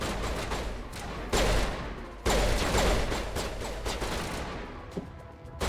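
Sustained video-game gunfire, with overlapping bursts and volleys of shots, loud and near, punctuated by heavier blasts, no speech over it.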